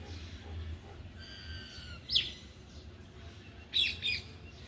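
Mynas in a rooftop garden give a few short, harsh squawks, one near the middle and a quick double call toward the end, over faint chirping and a low steady background hum.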